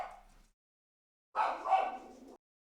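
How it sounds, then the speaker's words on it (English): A dog barks in two faint, separate bursts, a short one followed by a longer, muffled one after a brief silence, with no talking. "The dog was barking."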